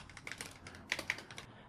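Fingers tap out a short burst on a computer keyboard, a quick uneven run of light clicks up close, faint and alone, with no voices.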